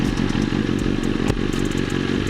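A motorcycle engine runs at a loud, close, rumbling idle with a steady low throb and some light mechanical clatter, and no voices.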